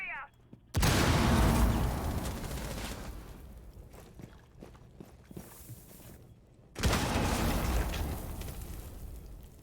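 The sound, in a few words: stun grenade explosion, from a video game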